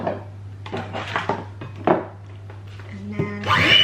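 Flour and egg being mixed for cupcake batter in a bowl, with irregular utensil clinks, scrapes and soft knocks against the dish, close, over a steady low hum.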